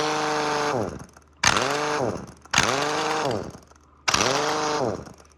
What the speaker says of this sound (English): And this is the nut buster.